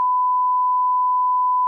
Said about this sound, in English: Brett bleeps it out